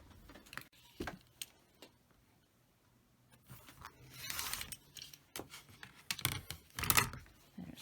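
Fabric half-square triangles for a quilt are cut apart at a worktable, producing scattered crisp cutting and handling noises in irregular bursts, with a louder cluster of rustling cuts toward the end.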